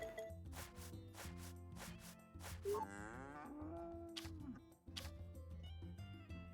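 A cow in the farming game Story of Seasons: A Wonderful Life lets out a drawn-out, wavering moo over bouncy background music with rhythmic beats.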